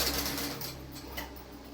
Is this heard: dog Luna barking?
no